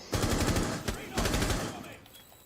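Automatic gunfire in Rainbow Six Siege during a competitive PS4 match, loud rapid bursts of shots with a brief gap between volleys, rattling and close, with faint talk underneath.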